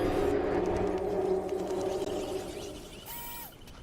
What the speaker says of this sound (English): That's the sound of the mighty T-Rex.